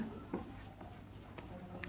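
Marker or chalk writing on a board during a physics lesson on electric charges, a few short scratchy strokes in a quiet room.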